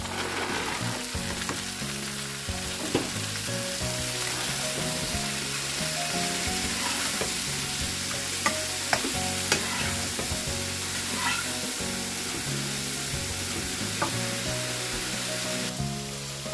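Kebabs frying in butter with peas and green chili, a steady close sizzle and crackle with stirring scrapes throughout, no talking.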